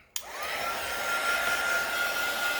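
A hair dryer switches on abruptly and blows steadily over an altered-book art journal collage page, a close, constant whooshing roar with a faint high whine, no voices.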